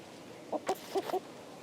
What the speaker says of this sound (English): What is that sound coming from that barrel? Cheap, cheap, cheap, I think it is. A green chick.